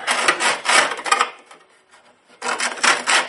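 A Corsair 800D case's metal is hand-shaped and deburred with a file, two bursts of rhythmic rasping strokes close up, separated by a short pause.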